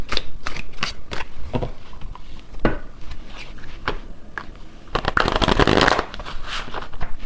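A tarot card deck is shuffled up close in a run of crisp riffling bursts and taps, ending in a longer dense riffle, with no talking.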